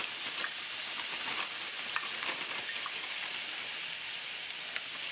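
Sliced peppers and broccoli fry in olive oil in a pan, giving a steady, close crackling sizzle with small pops throughout and no voices.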